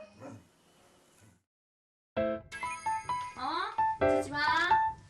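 An aggressive dog lets out sharp, high yapping barks and whining yelps in quick, agitated runs, close by, tangled with people talking.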